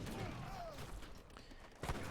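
Heavy cannon shots from a medieval strategy game strike a unit of longbowmen, a dense battle din of gunfire and impacts rolling on with a sharp, loud blast near the end.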